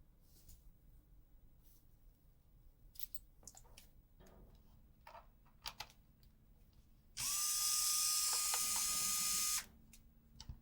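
Small screwdriver working the two Nintendo special screws out of a Super Famicom cartridge of Go Go Ackman, heard as faint scattered ticks and clicks followed by a loud, steady whirring burst lasting a couple of seconds.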